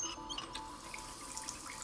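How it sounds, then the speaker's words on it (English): A sink tap in the video game Hitman running with a soft, steady hiss of flowing water, faint and continuous. "So turn on this sink"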